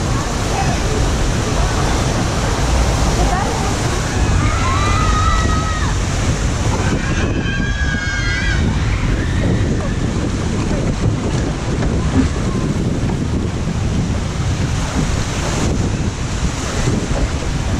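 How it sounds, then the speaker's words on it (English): Tidal wave crashing over a theme park water ride, a loud, sustained rush of water and surf with heavy wind buffeting the microphone, crowd voices and screams rising briefly partway through. "this is where a massive tidal wave comes over"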